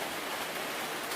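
Steady, even rain falls in a dense hiss, a brief stretch of the storm ambience played beneath a horror story, with no voice during this moment.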